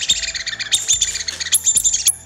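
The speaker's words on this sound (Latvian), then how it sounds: "Kaut kur putniņam kāds ir uzkāpis virsū un viņš čivina" A squeaky toy bird chirps in a rapid string of bright, high squeals, loud and close, with several short bursts in a row.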